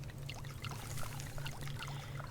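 Water poured over vegetables in the Subsistence survival game, a steady splashy trickle with a continuous low hum underneath, alone and moderately loud.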